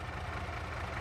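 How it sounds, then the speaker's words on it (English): A truck engine idles steadily in Farming Simulator 22, a continuous low rumble with no other sounds over it. "All right, leave the engine running."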